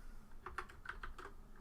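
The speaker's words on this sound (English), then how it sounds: "I swear I was typing" Fingers type on a computer keyboard in a quick, light burst of about eight soft key clicks, faint and close, with no voices.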